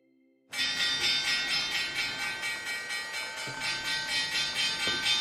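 Stock market opening bell rings out loud and sustained right after a brief quiet moment, a continuous bright metallic ringing with a steady pulsing rhythm that carries to the end.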